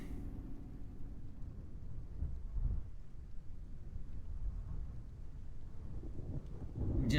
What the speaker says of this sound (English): Oh, and that storm is here.